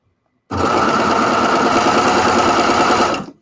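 A Baby Lock Acclaim serger runs a rolled hem on fabric, its rapid steady stitching whir starting abruptly and holding loud and even for about three seconds before stopping.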